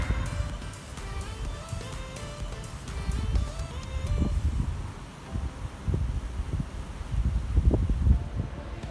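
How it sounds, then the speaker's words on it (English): Strong headwind buffets a cyclist riding along the Euro Velo 6 route into Tours, France, a steady rumbling roar with gusty swells throughout, close and continuous. "There's a hell of a wind against me"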